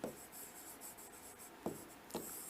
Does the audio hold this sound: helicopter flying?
no